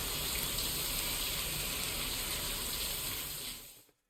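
Shower water runs in Death Stranding 2, a dense steady hiss of spray close and loud, then it stops abruptly near the end; no one speaks.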